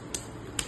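Two crisp hand claps about half a second apart at a family birthday and anniversary celebration, close and isolated against a low steady background.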